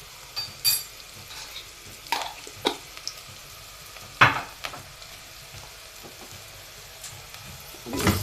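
Berbere spice, oil and onion stirred and sizzling in a pot: a steady low fry hiss with several sharp spoon scrapes and clinks against the pot, moderately close, no talking.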